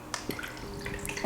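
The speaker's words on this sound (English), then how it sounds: "There goes the water." Water starting to flow through a Marine Magic MM-ALGAE-03 algae scrubber on a nano reef tank, a close, quiet run of scattered drips and trickling splashes over a low steady pump hum.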